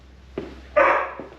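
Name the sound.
dogs barking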